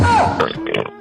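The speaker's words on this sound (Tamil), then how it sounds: "ஏப்பம் விட்டியா?" A single close burp from a person, a rough, voiced belch lasting about a second, loud and right up front with no other sound around it.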